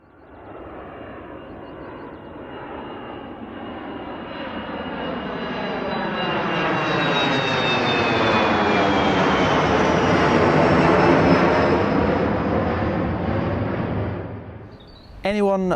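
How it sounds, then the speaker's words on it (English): Aircraft on approach to Heathrow passing low overhead at 4:30 in the morning above homes in Kew and Richmond, a loud engine roar that swells over about ten seconds and then fades, with a brief voice at the very end. "what aircraft landing overhead at 4:30 in the morning feels like"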